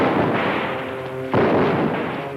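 Gunfire in a shootout at a remote Alaskan cabin: a sustained, rumbling burst of shots with a sharp, louder crack or blast midway, dense and reverberant, no voices.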